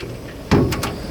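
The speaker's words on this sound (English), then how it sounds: "And then the door opens" A boat door swings open with a sudden thump, followed by two short sharp clacks as it settles onto its catch, close and fairly loud.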